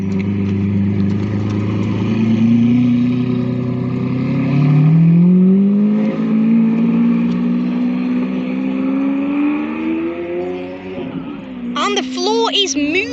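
A Lamborghini Aventador Roadster's 6.5-litre V12 accelerates away outside the Dovecote Inn, its engine note climbing steadily as it pulls off, with another car's high whine joining near the end.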